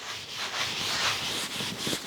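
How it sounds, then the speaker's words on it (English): Dry cloth wiped across a roof surface to clear loosened debris, a steady close scratchy rubbing with brief pauses between strokes. "use a clean, dry cloth to remove the loosened debris"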